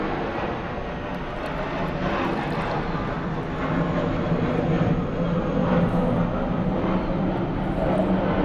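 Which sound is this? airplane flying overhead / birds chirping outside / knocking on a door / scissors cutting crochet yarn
airplane flying overhead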